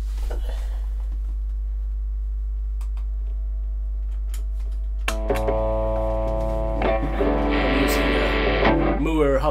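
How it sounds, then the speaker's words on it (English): Scattered clicks and a low hum give way to a loud, heavily distorted chord from a headless fanned-fret electric guitar that rings on and swells near the end. "Let's put on some distortion."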